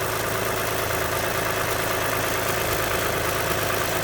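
Toyota Sienna 3.5L V6 2GR-FE engine idling with the hood open during a coolant drain and bleed, a steady broadband hum and low rumble that holds even and continuous throughout.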